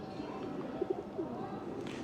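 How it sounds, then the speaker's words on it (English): Pigeons in Newcastle-under-Lyme town centre give a few soft, short coos in the middle distance over a steady outdoor background hum, with no talk. "Look at the pigeons, there's hundreds and hundreds of them"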